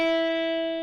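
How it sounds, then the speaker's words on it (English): An open low E string on an electric guitar rings out unmuted, a single steady sustained note with rich harmonics that barely decays, heard alone. "the open E string on the bottom would sound like if you weren't muting it."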